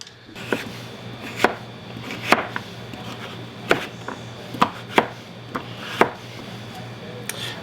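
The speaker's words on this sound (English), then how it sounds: "Then I cut this into some nice, like, 1/2-inch squares." A knife cutting squash into half-inch squares on a board, with about a dozen crisp, close chops at an uneven pace over a low steady background hum.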